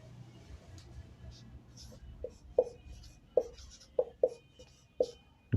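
Marker or chalk strokes on a board during a physical education lecture on types of joints: a few sharp, clear taps and short scratches spaced over several seconds, close and fairly loud above a low room hum.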